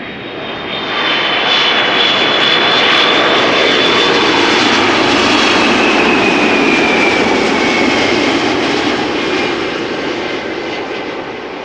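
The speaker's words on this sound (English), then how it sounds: "That was a very gentle landing" A passenger airplane lands at Amsterdam Schiphol Airport on a sunny August day, a loud, close roar of engines that swells, holds steady and slowly fades, with no voices.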